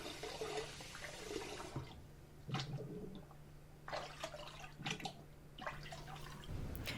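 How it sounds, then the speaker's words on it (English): Water sloshing and splashing as 3D printed resin parts are dipped in and out of lukewarm water, with several bursts of swirling liquid over a faint steady hum. "just dip it in and out of the water and dispose of it properly."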